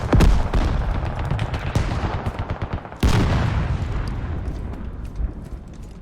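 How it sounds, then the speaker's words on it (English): Heavy gunfire from several weapons in the military shooter Squad: dense, overlapping bursts of shots and loud impacts crackle continuously, with one especially sharp blast midway, forming a sustained, chaotic firefight with no talking. "we're getting shot at by multiple things"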